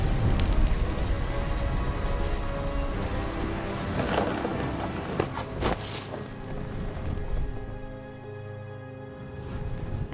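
Steady rain pours down in What Remains of Edith Finch while rolling thunder rumbles and cracks through it, loud and continuous, with no voices.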